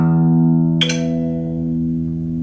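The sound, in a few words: acoustic guitar low E string being tuned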